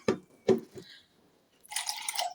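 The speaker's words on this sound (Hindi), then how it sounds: "लेकिन एहतियातन मैं इसमें तकरीबन हाफ कप पानी जो है वो और शामिल कर देती हूँ।" About half a cup of water poured into a spiced paste for beef parda biryani. Two soft knocks come first, then a short splashy pour close by near the end, with no talking.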